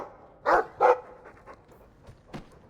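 A dog in the game Dragon Age 2 gives two quick mid-pitched barks close by, followed by a few softer panting or whimpering sounds.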